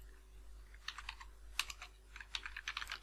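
Fingers type code on a computer keyboard, a fast, uneven run of close, crisp key clicks over a low steady hum.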